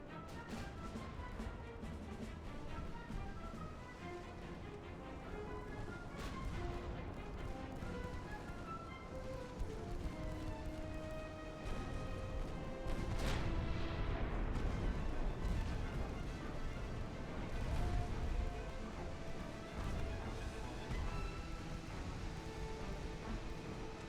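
Warship guns boom repeatedly in the naval video game Ultimate Admiral: Dreadnoughts, irregular heavy blasts over a constant rumbling battle din, growing denser and louder midway.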